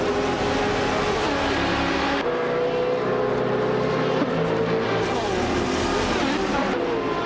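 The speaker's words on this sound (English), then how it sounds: "Amy's car is a 23 Pagani Zonda GR, known for its stunning design and incredible sound." A Pagani Zonda GR race car in a racing game roars steadily and loudly at high revs, its engine pitch shifting as it changes gear, with no talking.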